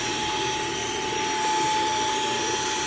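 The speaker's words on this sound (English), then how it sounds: "so we'll vacuum these out now" Steady, loud roar of a vacuum cleaner sucking pencil shavings out of a makeup drawer, a continuous broadband whoosh with a constant whine and no pauses.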